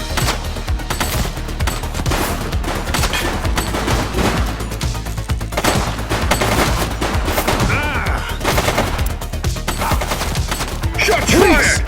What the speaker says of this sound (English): Shots fired!